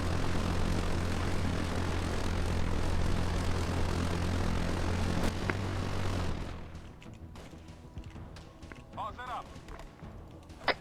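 An enemy drone aircraft taking off in a video game, a loud steady propeller engine drone that cuts away partway through, leaving quieter game sounds behind.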